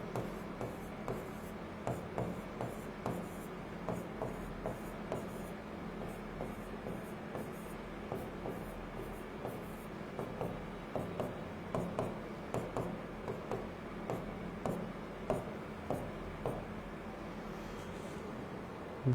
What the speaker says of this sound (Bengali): সবগুলো একবারে লিখে ফেলি।